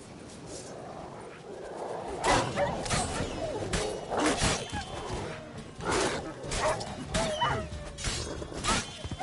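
A stray dog in The Witcher 3 barks in a string of sharp, separate yaps over a low game background, moderately close and fairly loud.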